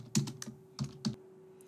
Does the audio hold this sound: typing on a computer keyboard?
yes